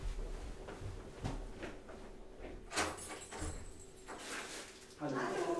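A house door opened to answer a caller at a chess player's home, giving a few knocks and clunks over steady room hum, then a brief muffled greeting exchanged at the door.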